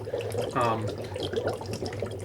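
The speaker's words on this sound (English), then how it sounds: "when you put the dry ice in there, it bubbles" Dry ice dropped into water at Christmas, giving a short burst of bubbling and gurgling that rises and fades over a steady low background hum.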